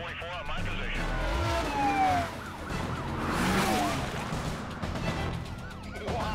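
A police car siren wails and sweeps in the Need For Speed Carbon racing game during a chase, rising and falling over roaring engines, crash noises and music, with voices talking over it.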